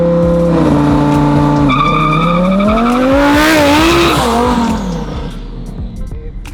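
A performance car launches hard with loud, close tire squeal over a roaring, rising engine, the screech sweeping upward for several seconds before fading as the car pulls away.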